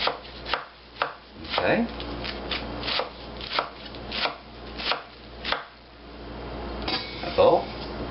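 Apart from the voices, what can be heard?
knife chopping a stack of spinach leaves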